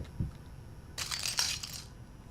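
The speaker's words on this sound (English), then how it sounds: "You probably stepped on some glass." A footstep crunches on broken glass in the horror game Layers of Fear, a single bright, crackling crunch lasting about a second over a quiet, low background.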